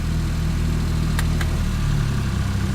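A van engine runs steady and close, its low mid-pitched hum lifting slightly as the clutch releases and the vehicle starts rolling, with two faint clicks partway through.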